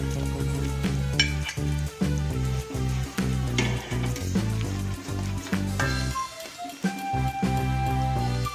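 Steady sizzling of noodles frying in a hot pan with egg and sausage, with repeated scraping and clattering strokes of stirring throughout, fairly close.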